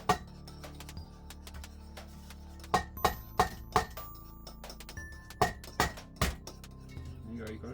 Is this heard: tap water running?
no